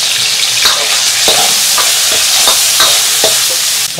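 Aromatics sizzle and crackle in hot oil in a big wok, with a steady loud frying hiss and regular scraping stirs about every half second, no voices.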